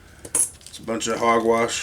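Silver coins clinking and jingling together at close range, a quick metallic clatter followed by a denser run of ringing chinks, with someone talking over part of it.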